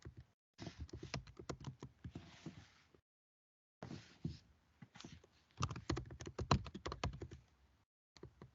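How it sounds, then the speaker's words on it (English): Typing on a computer keyboard while entering a math equation into graphing software, rapid close clacking keystrokes in two bursts separated by short pauses. "And I just type in the equation"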